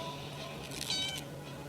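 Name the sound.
cat meowing in the video game 60 Seconds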